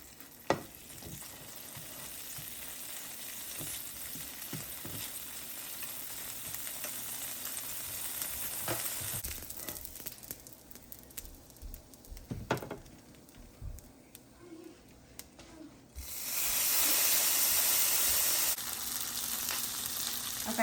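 Shredded cheese sizzles and crackles in a hot pan for low-carb wraps, a soft steady frying hiss with occasional sharp pops and scrapes, swelling to a louder burst of sizzling near the end.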